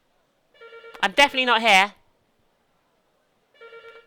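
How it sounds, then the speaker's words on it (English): A telephone rings in the Jade Empire video game, giving a repeated electronic trill in two separate bursts. Someone talks over the first ring. "I'm going to let this phone ring. Please stop ringing."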